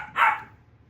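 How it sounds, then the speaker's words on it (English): Puppies playing with a rope nearby, about seven feet away, let out a single short, fairly loud bark or yip against a quiet outdoor background. "There are puppies right over here next to me, just about 7 feet away, chewing on a rope, having a good time."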